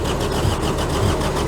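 A JCB 208s digger that has sat unused for years cranks over without firing, a steady, loud, churning drone with a faint repeating pulse as the engine turns.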